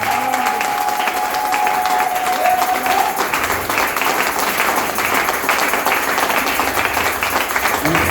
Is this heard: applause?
yes